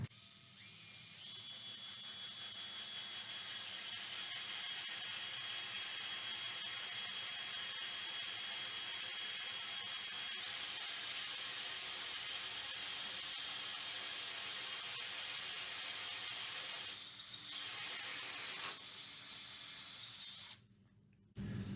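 A power drill bores a 12mm hole through Mirostone solid surface resting on a sacrificial MDF board, giving a steady, high whining grind that holds for about twenty seconds before briefly cutting out near the end.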